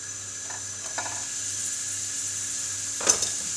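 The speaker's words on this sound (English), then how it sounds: "So I've got my leeks and celery in." Leeks and celery frying in a pan in a home kitchen, giving a steady soft sizzle with a few light stirring clinks and one sharper utensil knock toward the end.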